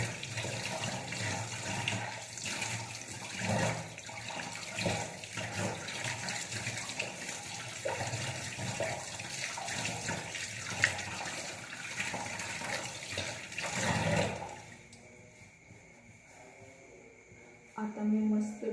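A tap runs steadily as hands are washed, a continuous close splashing rush that cuts off near the end, with faint talk underneath.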